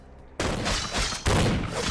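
Gunfire in the action RPG Vampire: The Masquerade – Bloodlines, a dense loud burst of rapid shots that cuts in abruptly and keeps going, with a second heavier volley after a short pause.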